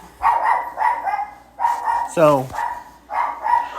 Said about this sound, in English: sorry if you're hearing the barking sound